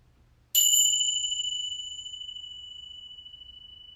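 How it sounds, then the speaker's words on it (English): A single meditation chime is struck once, a bright clean metallic ring with two pure tones that rings out loudly and then decays slowly and evenly over several seconds in a quiet room. "listening attentively to a sound of a chime"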